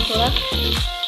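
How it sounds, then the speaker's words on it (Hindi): Chopped onions hit hot oil in a pan for a chicken feet curry, giving a loud steady sizzling hiss close by, with a voice talking over it. "तेल गर्म हो चुका है, इसमें हम प्याज डाल देंगे"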